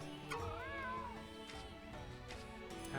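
A cat meows in Monster Hunter Rise, one clear rising-and-falling meow near the start, followed by softer game ambience and light clicks.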